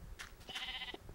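A Minecraft cow lets out a short, nasal bleating moo during a fight in a dark desert world, faint and brief over low game background noise.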